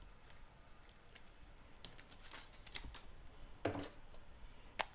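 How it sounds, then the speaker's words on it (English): Backing tape worked loose with a pick tool while making a stamped card, faint close scratches and small ticks with a sharper crinkling peel near the end, quiet and without speech. "an easy way to release that backing tape is to use your take your pick tool"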